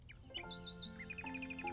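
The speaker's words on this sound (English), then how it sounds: "A nightingale. They only sing at night." Nightingale singing at night, a short run of bright chirps and rising whistled notes over a sustained tonal background, fairly faint.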